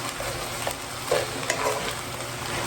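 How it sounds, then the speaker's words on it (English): Ground beef and onions fry in a pan with a steady, close sizzle and occasional scraping stirs, no voices over it. "you just want to make sure that the ground beef cooks all the way through and that the onions are cooked and tender"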